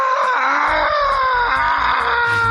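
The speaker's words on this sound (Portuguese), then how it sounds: "quando você mata o inimigo, ele dá uma versão desse grito" An enemy in a video game gives a long, loud, wailing scream that slides downward in pitch, punctuated by a series of rhythmic thumping hits underneath, heard alone.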